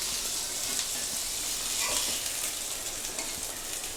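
Fish fries with chilli in a hot pan, giving a loud, continuous sizzle and crackle with faint stirring scrapes, and no talking.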